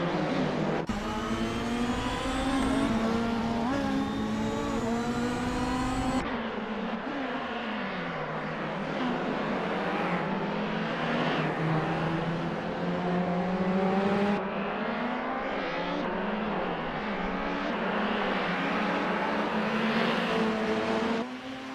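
Race cars, including a 1992 BMW 318i, racing in a video game, engines revving loudly and continuously with pitch climbing through gear changes, one car close and dominant, no talk.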